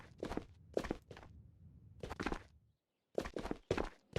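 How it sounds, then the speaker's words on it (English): Footsteps of bots in the VR game Ghosts of Tabor, a few clusters of soft, fairly close steps with thunky impacts, pausing briefly before resuming, with no talking over them. "I actually heard the footsteps and then they kind of stopped"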